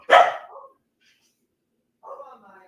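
A pet dog up on a couch lets out a loud nearby bark, then after a two-second pause a softer, shorter bark or yip follows.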